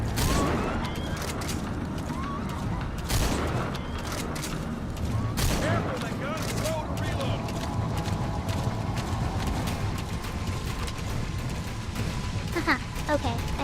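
Gunfire in the video game Metal Gear Solid V: The Phantom Pain, scattered sharp shots and bursts among clattering hoofbeats and game noise, with voices talking throughout.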